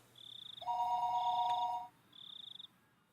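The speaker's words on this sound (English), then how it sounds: "the phone began to ring again" A telephone rings in the Higurashi: Himatsubushi visual novel, sounding as a few electronic trilling bursts with one longer tone between them, clear and alone against a quiet background.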